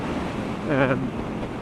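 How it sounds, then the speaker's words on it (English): Heavy wind roars and buffets the microphone of a rider on a Triumph Street Scrambler motorcycle heading into a squally headwind. The steady, loud rush continues throughout, with a brief tonal swell midway. "I hope the wind noise isn't too bad"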